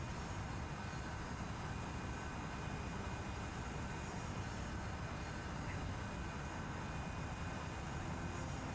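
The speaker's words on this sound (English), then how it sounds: "That's fighter planes." Fighter plane engines from the naval combat game Sea Power form a steady, dense roar that holds evenly throughout, a broad continuous rumble with no breaks and no talking.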